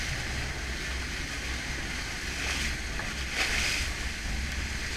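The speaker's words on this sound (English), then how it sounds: "We hoisted the sail and headed back to St Maarten." A sailboat under sail heading back to St Maarten, with steady wind rush and water washing against the hull, continuous broadband noise with no voices.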